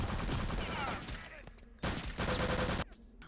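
Bursts of automatic gunfire in the video game Return to Castle Wolfenstein, rattling volleys broken by short gaps, with faint voices underneath.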